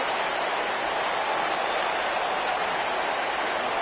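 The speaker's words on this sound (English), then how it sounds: "The crowd is buzzing with excitement." Arena crowd in WWE 2K19 buzzing with excitement, a dense, even wash of cheering and murmur held at constant level with no clear peaks and no talk.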